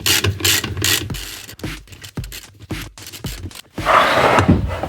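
A ratchet wrench tightening a bolt on a Ford Mustang engine, a run of loud close clicking bursts in short uneven strokes with brief pauses between them.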